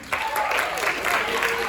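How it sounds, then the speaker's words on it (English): A high school audience at a stage hypnosis show claps and cheers in a burst of applause, mixed with crowd voices, for its pick of the worst dancer. "we're going to cheer for your favorite worst dancer"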